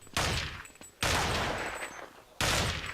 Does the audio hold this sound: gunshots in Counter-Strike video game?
yes